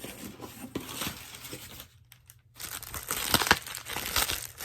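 Tape peels and tears off a cardboard box during an Avon unboxing, making crackly ripping and crinkling noises close by, broken by a short quiet pause before louder tearing resumes.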